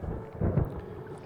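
Low, rolling thunder from a storm in the Agatha Christie: And Then There Were None video game, a brief muffled rumble that swells slightly in the middle.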